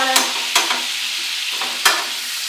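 Bacon sizzles steadily in a pan for carbonara, a constant hiss broken by a few sharp clacks of a utensil against the pan, close by with no talking.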